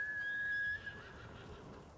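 A horse in the video game Ghost of Tsushima gives one clear, high whinny that holds for under a second and then trails off into soft background noise.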